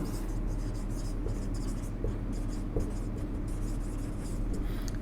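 Chalk or marker scratches across a classroom board in quick, irregular strokes, a continuous close scratching texture with a few sharper taps, no talking over it.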